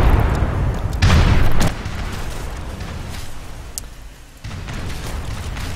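Defensive tower firing on warships in an Age of Empires III match, a loud boom near the start over a constant rumble of battle noise, with further dull impacts fading in and out.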